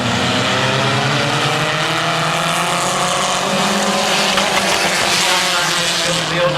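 Compact race cars in a heat race on the Big Oval at Midvale Speedway roar past in a loud, continuous engine drone, with pitch shifting as they come off turn four.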